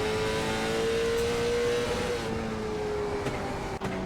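Onboard a late model race car on a fast lap, the engine drones loud and steady under hard throttle, pitch holding high then easing slightly, with no talking.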